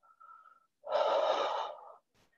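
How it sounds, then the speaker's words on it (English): Deep breathing during a yoga session: a faint inhale, then a long, loud, airy exhale lasting about a second, ending in a quieter short breath, close and alone. "Let's take a deep breath in and then a deep breath out and let it go."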